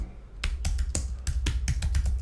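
Quick, uneven keystrokes on a computer keyboard, close and crisp, with about a dozen taps in a short burst and no voices.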